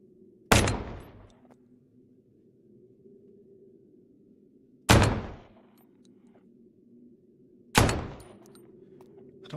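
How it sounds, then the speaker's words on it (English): Three loud, isolated gunshots from a post-apocalyptic survival video game in a Mad Max style, each a sharp crack with a brief decaying tail, spaced several seconds apart over a low steady background hum. "Am I supposed to just keep shooting them?"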